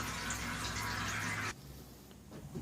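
Gasoline draining out of a lawn mower that sat all winter, a steady liquid pour for about a second and a half that abruptly stops, followed by faint dripping and quiet background.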